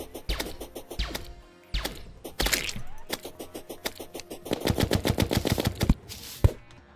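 A Gray Zappinator weapon fires in Terraria in rapid crackling zaps and bursts, with stuttering volleys that intensify toward the end and a final sharp hit, all without speech.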